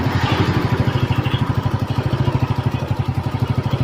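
A Yamaha Mio Sporty motorcycle that is hard to start and lacks power idles close by, its engine giving a steady, rapid, even thumping throb with a slight clatter throughout.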